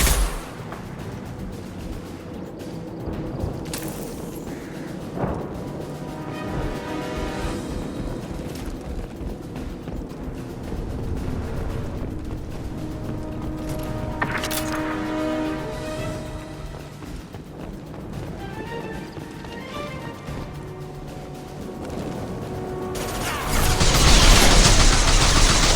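Sustained gunfire rattles in bursts and scattered shots, loud and close, mixed with booms and busy background noise, building to a louder burst at the end.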